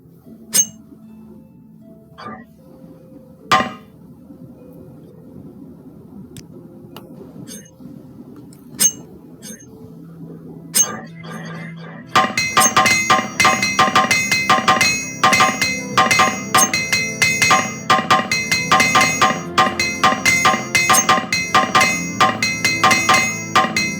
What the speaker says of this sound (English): we can actually repair our gear and get rid of some of these hammers